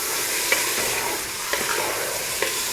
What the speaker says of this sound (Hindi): तो इसको हम 5 से 6 मिनट तक अच्छी तरह से भूनेंगे ताकि गोश्त का जो कलर है वो चेंज हो जाए